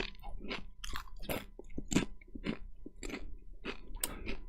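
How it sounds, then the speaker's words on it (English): Close, crisp crunching and chewing of Chipotle tortilla chips, with irregular bites and crunches repeating over several seconds. "I'll ASMR these chips right now for y'all because they're so crunchy"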